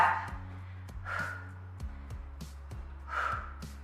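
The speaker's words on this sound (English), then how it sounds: "Every time you push your hand forward, breathe out" Sharp exhalations come in repeated bursts during a yoga balance-pad strength workout, close and breathy, over a low steady music bed.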